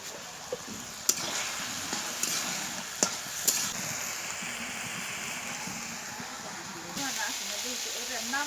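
Malabar spinach fruits fry in a pan with a steady low sizzle and hiss, broken by a few sharp clicks and taps of utensils, fairly quiet and close.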